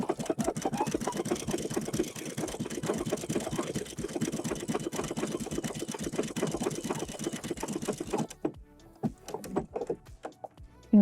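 Steady, rapid whirring stitch rhythm from a sewing machine sewing a manual buttonhole with a buttonhole foot, running continuously and loud up close before stopping into a few scattered clicks and handling noises.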